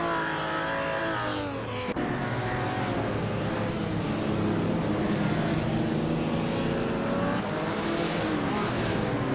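A 1956 Jaguar D-Type racing car engine roars in a racing video game, loud and unbroken, its pitch climbing and falling through gear changes for the whole stretch.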